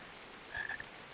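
Toads in the video game Final Fantasy XIV let out a brief, faint pair of croaks over a quiet ambient hiss.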